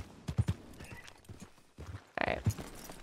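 A horse's hooves in Red Dead Redemption 2 clop in short, uneven bursts of a few steps, fairly close, with a brief whinny-like rise and a person speaking softly in between.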